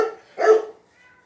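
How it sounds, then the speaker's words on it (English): A mother dog with puppies lets out a single sharp bark nearby, clear and fairly loud, trailing into a quiet whine. "I have a mama dog that's barking right now"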